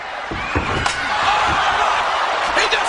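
Steel chair strikes a referee during a WWF wrestling match between Triple H and The Rock, a few sharp slams over a loud, roaring arena crowd.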